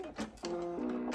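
A sewing machine runs in short bursts, stitching fabric strips for quilt binding corner to corner, with a steady whirring hum and brief pauses between runs, close and moderately loud with no talking.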